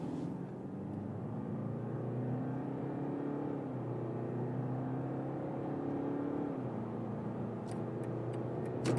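A new Mercedes E-Class W214 or BMW 5 Series G60 accelerates hard from 50 km/h in sport mode, its engine note climbing through gears in rising sweeps with brief drops at each shift, steady and unaccompanied by talk.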